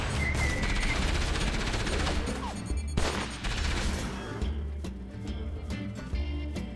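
Rapid bursts of enemy gunfire in the PC action game Enslaved: Odyssey to the West, dense fusillades and sharp crashes layered over a loud combat soundscape, thinning out toward the end.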